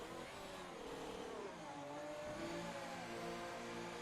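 Race car engine in a Mexico-round racing video game sweeping past with a steady, pitch-shifting drone, loud and continuous over a dense background of other engines.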